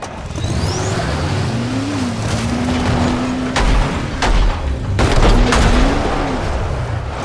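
A car drives through the zombie video game Dying Light, its engine droning steadily with rising and falling revs, broken by several sharp bursts like gunfire and impacts, with no speech over it.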